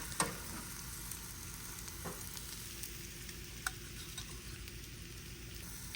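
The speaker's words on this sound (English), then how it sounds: "I'm pretty impressed with myself that I was able to scramble most of these and leave 1 egg over easy for me" Eggs frying in a small pan as they are scrambled, a steady soft sizzle with occasional sharp taps and scrapes of a utensil, close and fairly quiet, with no talking.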